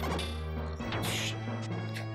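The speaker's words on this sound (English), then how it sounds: "You just get smashed in the face by rocks while attempting to explain these things to me." Rocks smash into the player character in the Illusion of Gaia video game, a loud, dense burst of crashing thuds and bright impacts over a busy game soundtrack, with several sharp hits in quick succession.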